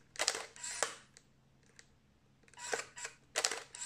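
A Canon EOS 5 film SLR's vertical shutter release fires several times, producing crisp mechanical clicks and whirring shutter-and-advance bursts up close, spaced by short silences, with no talking.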